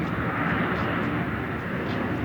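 A passenger jet flies in to land at San Francisco International Airport, a steady, loud, broadband engine roar filling the whole stretch without breaks.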